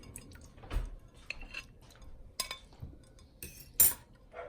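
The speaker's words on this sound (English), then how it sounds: "So I'm gonna go ahead and spoon some out." Cooked chitterlings being spooned out of a pot: a few scattered metallic clinks and wet scoops against the pot, close and sparse, with quiet gaps between them.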